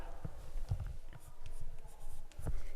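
Chalk or marker writing on a board during a calculus lesson on integration, with short scratchy strokes and taps in uneven bursts, fairly close, with no talking.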